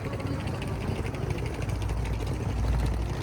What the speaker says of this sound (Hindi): साथ में एक ये ट्रेन का इंजन खड़ा है।